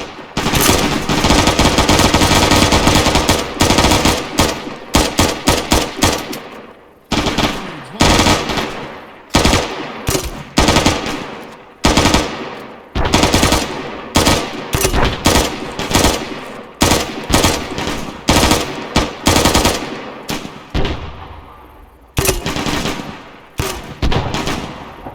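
Sustained automatic gunfire in a combat video game comes in long, dense bursts separated by short pauses, loud and close, with many weapons overlapping.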